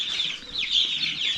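Feisty baby chickens chirp and cheep nonstop inside a netted backyard enclosure, shrill overlapping peeps close by, with a faint flutter of wings and no voices.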